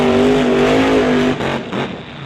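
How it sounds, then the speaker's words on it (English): Twin-turbocharged Mustang drag race car at a drag strip test session, engine held at a loud steady rev as the throttle is worked, then lifted off abruptly with rough, sputtering lower bursts trailing behind. "Moretto, you could hear him working the throttle and then again getting out of it."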